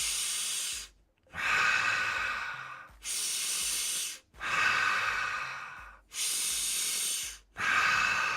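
Slow, deep breaths drawn in and pushed out through the nose or mouth, close and airy, six long hissing pulses separated by short silent pauses in a steady rhythm.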